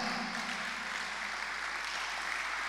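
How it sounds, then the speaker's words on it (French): Church congregation applauding, a steady dense wash of clapping that holds evenly throughout without any speech over it. "Est-ce qu'on peut encore acclamer pour la voix de la destinée?"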